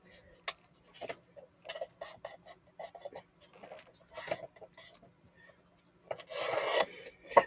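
Paper being cut for art journaling, scattered scratchy snips and rasps at close range, mostly soft with a louder rustle near the end.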